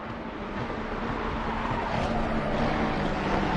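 GT3 race cars in a racing video game climb Bathurst's Mountain Straight, a loud, dense, steady engine roar with tyre noise that swells slightly toward the end.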